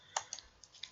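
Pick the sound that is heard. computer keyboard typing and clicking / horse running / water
computer keyboard typing and clicking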